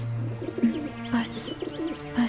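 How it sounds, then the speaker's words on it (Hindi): An injured bird, wounded by an arrow, gives soft repeated cooing calls close by in short mournful phrases, with a brief higher chirp partway through. "उसके रस से इस घायल पंछी का उपचार हो सकता है"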